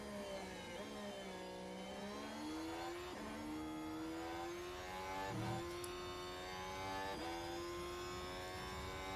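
A race car engine screams through an onboard lap in the F1 Manager 24 video game, with the pitch climbing through the gears, dropping on shifts and braking, then climbing again. It is steady, close and alone.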